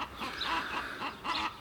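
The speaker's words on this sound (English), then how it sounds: "that particular noisy chicken" An outdoor hen called Annie clucking repeatedly, a few rhythmic bursts of close, fairly soft clucks with brief pauses between them.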